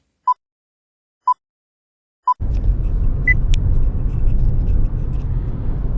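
Car setting off on the road to Vancouver: three short beeps, then steady loud engine and road rumble from inside the vehicle, with a couple of faint clicks on top.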